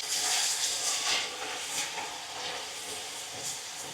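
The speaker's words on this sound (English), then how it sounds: "Adding salt when I'm sauteing my onions" Onions sizzling with salt in a hot pan, a steady bright hiss with small crackling bursts, close and continuous.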